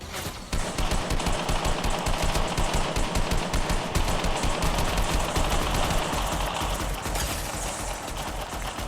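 Rapid automatic gunfire rattles almost continuously through a Fortnite match, dense crackling bursts of shots, loud and close, layered with game effects.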